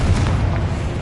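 A Confringo explosion spell bursts in Hogwarts Legacy, a single loud, deep boom with a rumbling tail.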